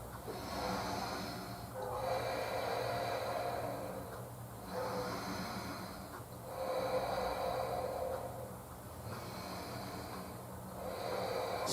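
Slow, deep breaths drawn during a prenatal yoga pose, rising and falling in a steady cycle of about five long inhales and exhales, close and soft with no talking.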